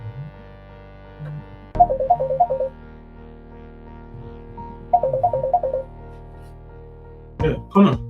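Phone ringtone for an incoming call, short bursts of bright electronic melody repeating twice with a gap, fairly loud, over a quiet background hum, with a brief extra burst at the end.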